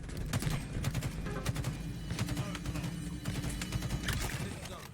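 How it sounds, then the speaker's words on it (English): Teammate's gunfire in a Halo Infinite multiplayer match, rapid bursts of shots over a dense, continuous game soundscape with low rumbling effects. "Oh, my teammate's shooting."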